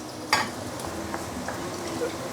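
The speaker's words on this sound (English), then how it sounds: "Then I'm going to push the onion and garlic to the side" Onion and garlic pushed aside in a frying pan on a Malaysian street-food stall, a steady close sizzle with a few scrapes of a utensil against the metal pan and no talk.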